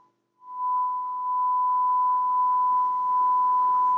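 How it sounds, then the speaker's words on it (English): A steady 600 Hz sine test tone from a signal generator plays through the loudspeaker of a Kriesler 11-20 "Plum Pudding" radio during alignment, starting after a short gap and holding at an even level to the end. "Turn my speaker on, put the SIG-Gen on recall 11 on 600."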